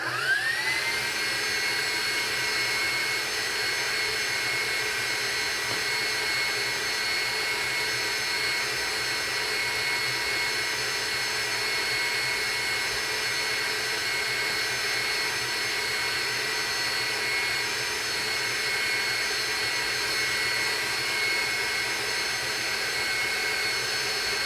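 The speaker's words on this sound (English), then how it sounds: "I don't want it to cook faster than I'm whipping my egg whites" An electric mixer whips egg whites for Italian buttercream, a loud, steady high-pitched motor whine with a whooshing rush that runs unbroken and close for the whole stretch, with no talk.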